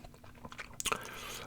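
Close, wet gum chewing in a whispered ASMR binaural session, soft smacks and small crunchy clicks repeating quickly right at the microphone, with no talk over it.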